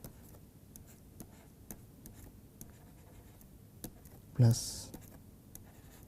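Chalk or pen ticking and scratching out a differential equation by hand, a series of faint regular taps and strokes under quiet lecture talk, with one louder knock near the end.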